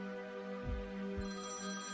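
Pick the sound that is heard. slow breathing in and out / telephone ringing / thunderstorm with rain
telephone ringing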